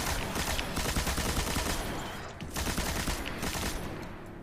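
Machine gun fire in the video game Destiny rattles out as a rapid, continuous stream of sharp shots, briefly dipping midway before resuming at full pace.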